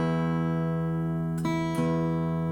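A guitar's low E string rings as a steady sustained tone while it is being tuned, with two soft plucks or touches briefly disturbing the note near the end.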